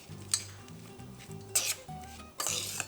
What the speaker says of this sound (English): let's mix this and just see what we're working with